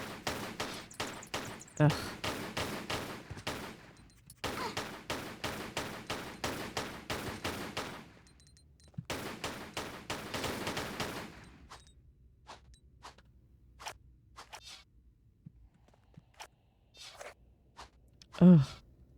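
Gunfire in the Tomb Raider 4 game comes in rapid bursts of sharp, dry shots, several clusters separated by short gaps, then scattered single reports, with a brief grunt near the end.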